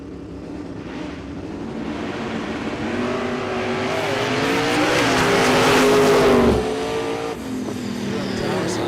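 A 1978 Ford Fairmont no-prep drag race car launches and accelerates hard down the strip at Ozark Raceway Park, a loud roaring engine climbing in pitch for several seconds before cutting off abruptly, followed by lingering track noise.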